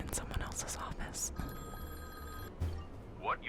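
A telephone rings in an office: one steady electronic ring, quiet, heard behind soft whispered speech.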